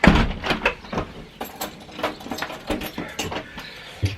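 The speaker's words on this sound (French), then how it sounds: "je vous prends tout le temps quand je ferme la porte" A door is shut and locked at home, with a series of close, sharp mechanical clunks, rattles and latch clicks spread unevenly over several seconds.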